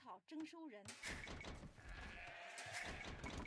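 A sheep bleats in the Age of Empires 2 video game, a short wavering cry at the start, then dense game noise and chatter take over and mask it.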